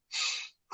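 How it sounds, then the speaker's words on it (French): One quick breath drawn sharply in through the nose, a short airy hiss close to the microphone, followed after a brief pause by the start of an exhale. "cherchez déjà à prendre un peu d'air par le nez et à expirer par la bouche brièvement"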